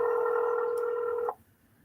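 A phone dialer on a cold-calling line emits a steady electronic tone that holds for over a second and then cuts off abruptly, leaving quiet line hiss.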